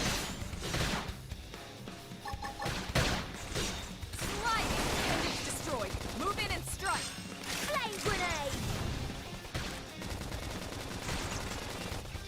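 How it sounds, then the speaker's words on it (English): Machine gun fire aimed at bats in the video game Xenoblade Chronicles X, repeated rapid bursts and impacts mixed with game effects, running under steady talking. "who uses machine guns on bats, man?"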